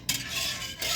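Food being stirred in a cast iron pan, seasoned with salt and pepper, a close scraping swish with faint sizzle, one long stroke and then another starting near the end, no talking.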